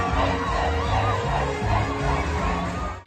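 Dense crowd of carnival revellers packing the streets at a block party, a loud continuous wash of shouting, cheering and whoops with rhythmic thumping beneath, cutting off abruptly at the end.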